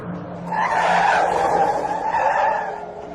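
A car brakes hard and its tires skid in a loud, close screech that swells, holds for about two seconds, then fades, heard alone as a sound effect.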